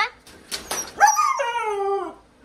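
A dog whimpers in short high whines, then breaks into a drawn-out wavering howl that slides downward before fading, loud and close.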